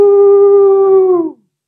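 A human voice imitates a dog howling like an operatic tenor, one long sustained wavering note that holds steady, then slides down and stops, clear and close.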